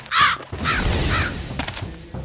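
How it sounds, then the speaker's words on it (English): A crow caws in a Lionel Trains adventure video game, two or three harsh, rasping calls in quick succession, loud and close, standing alone with no talk over them. "A crow!"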